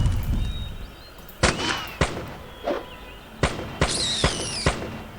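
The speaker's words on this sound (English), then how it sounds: "he's using a gun at last" Gunfire from a gun in the video game Arcanum: several sharp, separate shots spaced irregularly, loud and punchy over a low background.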